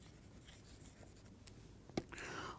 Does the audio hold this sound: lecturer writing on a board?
yes